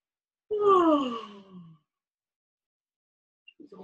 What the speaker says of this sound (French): Un bâillement sonore.